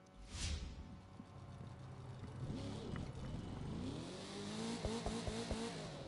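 Car in The Crew 2 video game driving with rising and falling engine revs and a whoosh early on, a fairly faint moderate-distance drone with several pitch sweeps as the engine climbs.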